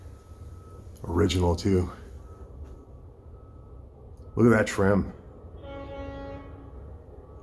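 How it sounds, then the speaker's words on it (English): A train passing on a nearby railway track outside an abandoned 1858 stone cottage, its distant, faint horn-like tone rising after a person speaks, under a steady low rumble. "We're very close to a train track. I think the train's passing through right now."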